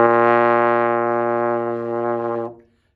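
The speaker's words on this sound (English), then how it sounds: "So to play our B flat's going to sound like this." A trombone sustains a single B flat with the slide all the way in, a rich, brassy note held steadily for about two and a half seconds before it stops cleanly.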